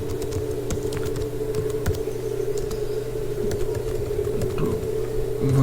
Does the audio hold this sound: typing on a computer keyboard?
yes